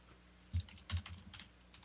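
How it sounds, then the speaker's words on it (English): Keys on a computer keyboard are tapped in a few quick irregular bursts, close and fairly quiet, over a low steady room hum. "Yeah, that was me typing."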